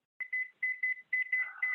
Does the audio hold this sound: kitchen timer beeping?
yes